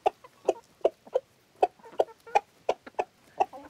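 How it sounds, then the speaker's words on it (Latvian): A rooster calls the hens to eat with a quick, irregular run of loud clucks and short calls close by, about a dozen bursts with brief pauses between them and no talking. "Izklausās, ka Gailis smejās par mani. Bet īstenībā Gailis sauc visas vistas ēst."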